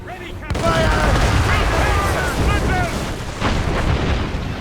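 Ship cannon fire from an Assassin's Creed Rogue naval battle: a loud, sustained barrage of booming blasts under shouted crew commands and battle noise.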